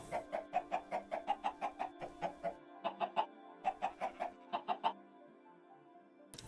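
Chickens clucking on a Minecraft chicken farm: a steady, fairly quick run of clipped, repeated clucks over a constant background hum, pausing briefly and then resuming before stopping.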